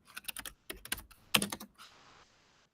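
A quick run of keystrokes on a computer keyboard, typing a message into a chatbot: close, crisp clicks in uneven clusters over about two seconds, one sharper tap near the end, then faint hiss.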